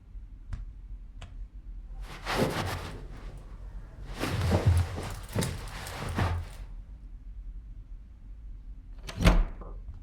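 Knocking at a door in a Filipino horror video game, several separate bursts of dull thuds spread across the clip, fairly close with quiet gaps between them.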